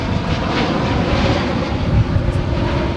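An airliner taking off at Dallas-Fort Worth airport roars steadily throughout, a dense, continuous low rumble with a broad engine hiss above it, loud and sustained with no voices.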